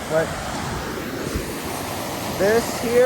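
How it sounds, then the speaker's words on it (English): A waterfall spilling into a creek in Canada's wild mountains gives a steady, broad rushing roar with some wind buffeting, while someone speaks briefly over it. "So it looks like this is where the falls turn into a creek."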